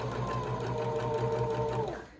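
Sewing machine stitching a fabric face mask seam, a steady close whirring hum running for about two seconds before it winds down and stops.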